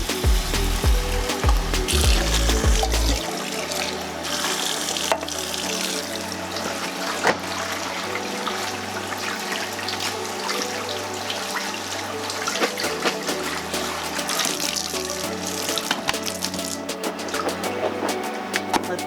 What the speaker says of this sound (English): So I always drain my beans.